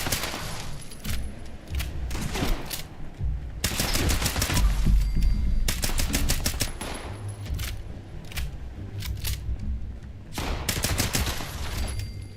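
Gunfire in Fallout 76, repeated rapid bursts of loud close shots in several volleys with brief pauses between, heavy low thumps under the sharp cracks.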